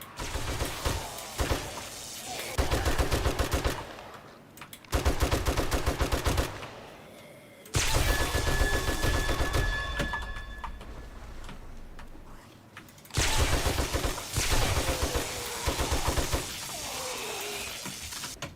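Loud bursts of rapid automatic gunfire in the video game 7 Days to Die come in long stuttering volleys separated by short pauses, each rattling run dense with close shots and clinking echoes.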